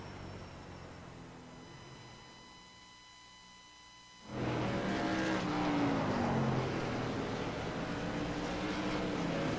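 Race cars lapping Langley Speedway in a racing game: faint engine whine at first, then a loud surge of roaring engines with pitch sweeps as cars pass close by.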